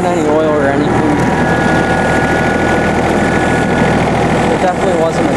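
A John Deere F1145 diesel mower engine idles steadily and close by, with a continuous low rumble and a thin whine over it, while a person talks over the running engine throughout.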